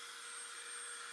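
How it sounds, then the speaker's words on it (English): A small handheld blow dryer runs on high, warming stickers to loosen them, giving a steady, close airy roar with a faint whine that holds level and uninterrupted throughout. "I am now going to take my little handy dandy blow dryer on high"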